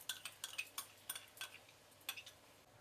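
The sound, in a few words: mixing marinated mutton with chili powder and yogurt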